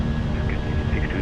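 IAE engines on a Fenix A320 in a flight simulator spool up as the throttles go to climb, a steady, loud, dense roar with a faint high tone running through it.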